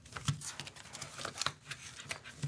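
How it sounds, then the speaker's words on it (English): Paper being creased and folded into the middle for a paper airplane, soft rustles and crisp crinkles close by, quiet and intermittent. "folding it into the middle."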